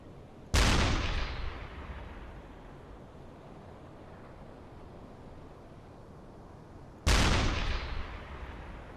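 A U-boat deck gun fires twice at a ship in the Uboat submarine game. Each loud, sharp boom is followed by a long rumbling decay, with the shots spaced about six seconds apart over a low background of wind and sea.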